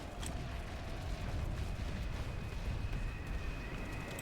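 Rocket launchers firing in a video game, a dense, continuous rumble of blasts and explosions that blend into a steady roar with no distinct gaps or talk.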